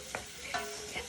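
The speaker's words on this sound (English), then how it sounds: "Right, so these onions, I'm sauteing." Onions sautéing in a pan for a plum and ginger chutney give a steady soft sizzle, with three brief scraping stirs spaced evenly through it and no talk.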